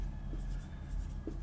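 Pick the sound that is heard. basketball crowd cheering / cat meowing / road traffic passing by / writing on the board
writing on the board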